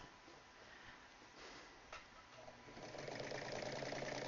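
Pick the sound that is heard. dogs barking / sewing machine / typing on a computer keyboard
sewing machine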